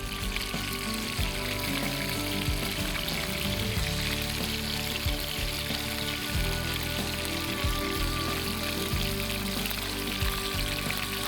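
A large hilsa fish fries in hot oil, giving a loud, continuous close-up sizzle and crackle that holds steady throughout.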